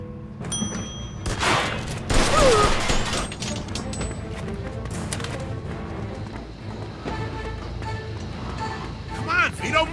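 Gunfire in a Mafia Trilogy game scene, with a sharp cluster of loud shots early, then scattered reports and clatter under shouting voices throughout.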